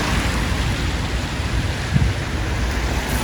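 Steady rain pours down on an old town with paved streets and a castle. It makes a dense, loud, unbroken hiss with a low rumble beneath, and a single muffled thump is heard partway through.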